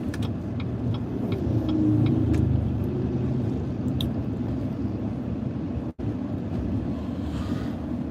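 A car rolls through heavy Sunday road traffic, its steady engine rumble and road noise filling the cabin with a continuous low drone, briefly cut by one sharp dropout.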